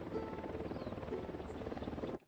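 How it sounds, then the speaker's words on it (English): A couple of helicopters in the video game Ghost Recon Wildlands, a continuous loud rotor thrum with steady beating that fills the clip and then cuts off abruptly near the end. "There's a couple of choppers over here."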